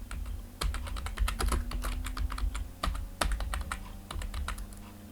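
Steady, close typing on a computer keyboard while entering a shop name into an Excel spreadsheet, with rapid irregular keystrokes and a few louder key presses, no voices.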